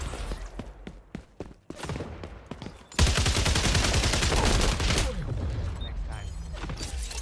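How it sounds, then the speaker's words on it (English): Video game gunfire: a few sharp isolated shots, then a loud, sustained burst of rapid automatic fire that gradually eases into a steady rattling roar. "Terrible shooting there."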